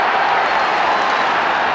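Offaly supporters cheer at the 1994 All-Ireland hurling semi-final against Galway, a steady, dense stadium roar that holds loud and unbroken throughout.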